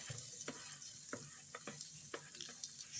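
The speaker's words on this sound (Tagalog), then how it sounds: "stir fry natin yung onions until translucent siya" Onions stir-frying in a hot pan: a steady bright sizzle, with intermittent scrapes and clicks from the stirring utensil throughout, fairly quiet and close.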